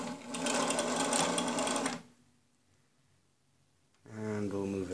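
A Techsew 611 walking-foot machine fitted with Sailrite upgrades stitches in a loud steady rapid whir for two seconds, stops to near silence, then starts again under a voice.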